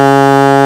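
An alto saxophone holds a single low B flat. The note is loud, steady and buzzy, about a second long, with no accompaniment.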